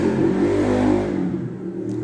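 A motorcycle rushes past outdoors, its loud engine roaring and then easing off as it moves away over about two seconds, with no talk.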